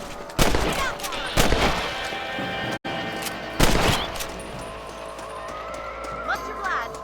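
Rifle shots at rabbits in Red Dead Redemption, three sharp loud cracks spaced about a second or two apart with lingering echo, over outdoor ambience and faint hoofbeats, with a voice speaking between shots.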